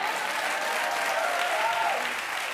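Studio audience at a TV talk show applauding steadily for guest actor Michael Ealy, a dense, continuous wash of clapping that holds loud and even for the full stretch without pause.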